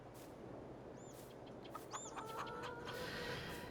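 Chickens cluck at a chicken coop in the Farming Simulator 22 video game on PS5, with a few short, distinct clucks over a steady farm background hum.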